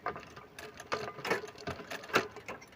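A sewing machine stitches a Punjabi sherwani near decorative beads, running slowly in short uneven bursts of mechanical clatter with pauses between runs.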